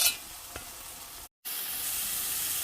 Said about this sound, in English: I'm going to go ahead and brown those just like I did the last ones